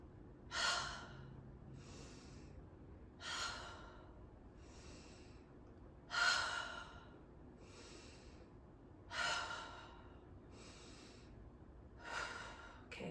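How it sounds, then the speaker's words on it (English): Forceful breathing during a morning yin yoga session: five or six sharp, rhythmic exhales spaced about three seconds apart, each a loud airy burst with softer inhales between, close and alone without talk. "inhale, bring the shoulders up, and exhale kind of aggressively"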